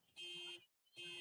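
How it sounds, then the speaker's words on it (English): Car alarm sounding at a summer youth softball tournament, two loud electronic tones separated by a brief silence, repeating in an insistent pattern. "Scotty's car alarm's going off"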